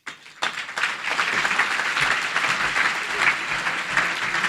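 A large audience at a business annual meeting bursts into sustained, dense applause welcoming a speaker to the stage, steady and loud throughout with faint voices mixed in.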